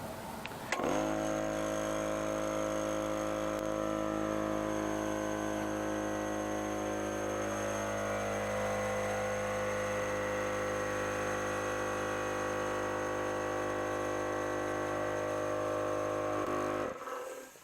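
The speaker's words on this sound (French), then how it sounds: "Voilà, donc le compresseur est maintenant arrivé à 100 PSI." An air compressor motor starts, runs with a steady droning hum as it builds pressure to 100 PSI, then cuts off, close and unbroken by any voices.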